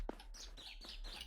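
Faint bird chirps come in short repeated bursts over a low hum, part of the ambient soundscape of a video game's grassy terrain, quiet and unaccompanied by voices.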